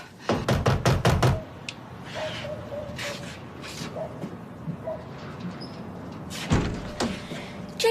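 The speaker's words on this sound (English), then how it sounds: "Oh, it's the front door." Loud, rapid knocking on a front door, a burst of about six sharp raps, followed by quieter background noise and another thud later, with a household setting and faint voices around it.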